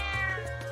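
A single short, close cat meow in the video game Trails of Cold Steel, a clear voiced cry under a faint background music bed.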